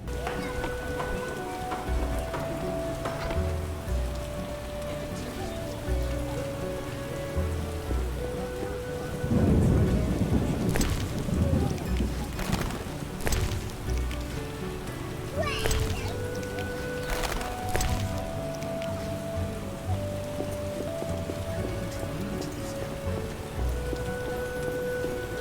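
Rainstorm with rolling thunder in The Witcher video game, steady rain hiss throughout with a heavy low thunder rumble midway, sharp crackling strikes after, and a sustained musical tone in the background.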